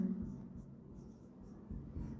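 Chalk or pen writes on a board during a biology classification lecture, faint soft scratching strokes in short bursts with a quiet voice in the background.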